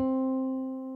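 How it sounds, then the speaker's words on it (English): A single piano middle C note rings out alone, struck once and slowly decaying over about a second. "Here's our middle C for reference."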